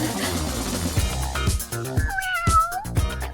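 A cartoon kitty in a Wow Pets brick adventure gives a short meow near the end, heard over busy background music and effects.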